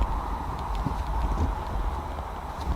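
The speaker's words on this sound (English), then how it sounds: "It sounded like footsteps." Footsteps during a ghost hunt at the Peterborough Lift Lock in Ontario, a steady run of dull thuds and knocks repeating through the whole stretch over a constant background hum, fairly close and moderately loud.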